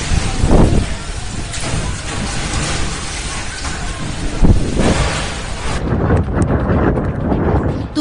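Strong winds of Cyclone Amphan in Howrah, West Bengal, a steady loud roaring rush buffeting the microphone with occasional gusts and rumbles, continuous throughout.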